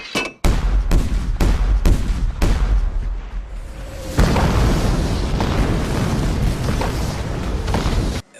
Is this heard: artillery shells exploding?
yes